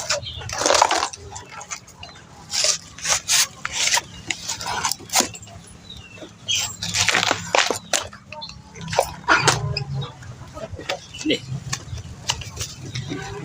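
Banana tree stem being peeled by hand for chicken feed, with repeated tearing, scraping bursts in an uneven rhythm, close and fairly loud, with low outdoor background noise.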